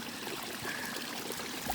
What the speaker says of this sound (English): That's how you fill a water bottle